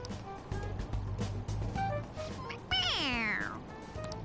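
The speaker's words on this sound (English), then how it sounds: "It's, a toy! It meows when you press on its head." A toy cat from Persona 5 Royal lets out one loud, drawn-out, falling meow when its head is pressed, rising above steady game background sounds and soft clicks.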